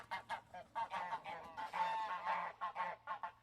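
Geese honking in a busy, overlapping chorus, a dense stream of loud nasal calls from several birds close at hand, with no voices over them.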